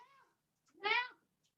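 A cat gives one clear, drawn-out meow up close, preceded by a softer, shorter cry, with quiet gaps around them.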